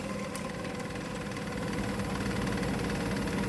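A mixer beats vegan keto bun ingredients at its lowest speed, giving a faint, steady motor drone with constant broadband whir and no pauses.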